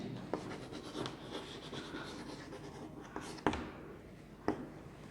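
Chalk or marker scratching across a classroom board during a physics lesson on magnetic dipole moment, a steady scrawl punctuated by several sharp taps as strokes begin and end, fairly close and alone.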